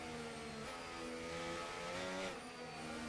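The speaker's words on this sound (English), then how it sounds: "Hear the engine singing away." A Formula 1 car in F1 25 on the Monaco circuit, engine screaming at high revs with rising and falling harmonic pitch as the rear tyres spin up, steady and continuous throughout.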